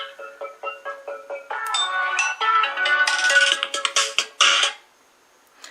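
An incoming call sets off a phone ringtone: a loud, bright melodic tune of repeated short notes that builds into a fuller, busier phrase, then cuts off, leaving near silence.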